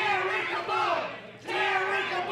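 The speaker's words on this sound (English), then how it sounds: "Now the whole crowd is chanting Terrikable" A large wrestling crowd at the Eclipse March Mayhem event chants the wrestler Terrikable's name in unison, loud and sustained, with rising and falling cheering voices filling the arena.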